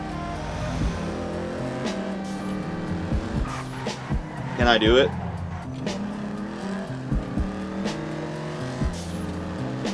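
A car engine revs and shifts through gears in GTA V Online, with a brief tire squeal midway, while a voice talks over the driving.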